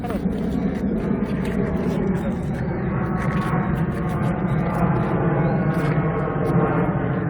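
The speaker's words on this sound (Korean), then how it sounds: "실시간 비행기들이 지나다닙니다. 소음 발생이 심해요." Airplanes fly low past an airport next to an apartment construction site in Gimpo, producing a loud, continuous roaring drone that stays steady and close for the whole stretch.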